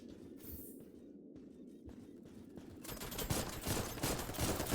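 Video game gunfire builds into a dense, rapid fusillade of overlapping shots. It starts muffled under background noise and grows louder and more continuous toward the end.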